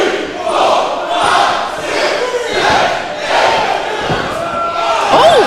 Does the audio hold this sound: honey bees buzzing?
no